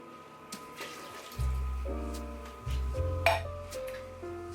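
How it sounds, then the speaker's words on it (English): Liquid from a can of peas and carrots pours out into a sink, a gurgling stream with hollow resonant tones that start and stop in a few bursts, plus a faint metallic clink. "I'm going to drain a can of peas and carrots."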